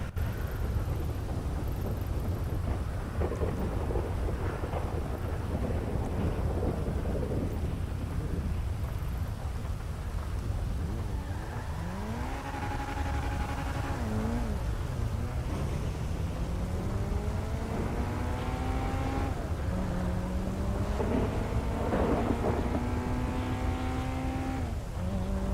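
Rumbling thunder rolls through a rainstorm in the video game RedM, a dense continuous low roar with swelling rumbles. Some tonal gliding engine-like sounds appear in the later part.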